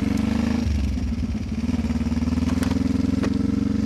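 A motorcycle sets off again, its engine dropping into a rapid, throbbing idle-like chug as it pulls away gently, close and loud, with a few clattering knocks over the pulsing exhaust.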